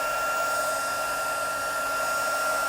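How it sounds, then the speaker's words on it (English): A heat tool blows steadily to dry ink on a tatted lace and paper craft project, a constant close whirring rush of air with a faint high whine, unbroken and alone for the whole stretch. "So now I'm just using that heat tool"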